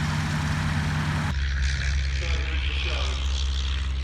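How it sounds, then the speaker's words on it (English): A Westland Lysander's propeller engine droning at an evening airshow at Shuttleworth, a loud, steady low rumble with a broadband roar that shifts character partway through, continuous across the whole stretch. "This is the Western Lysander, of which you will see a lot throughout this video."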